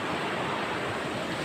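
River water rushing through a jungle at night, a dense, steady broadband roar close to the listener with no voices.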